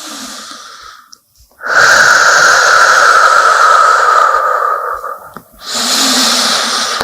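Long, loud breaths during a floor yoga stretch sound close and airy, with a sustained hissing exhale of several seconds after a brief pause. A second breath begins near the end. No one speaks.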